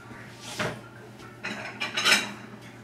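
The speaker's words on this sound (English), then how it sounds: "I'm going to get a little dish." Kitchen dishes and cutlery clatter as a small serving dish is fetched for meat timbales (bobotee): a few distinct clinks and knocks of crockery and metal, close and moderately loud, with quiet gaps between.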